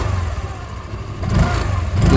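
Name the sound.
Hero Destini 125 scooter engine starting and running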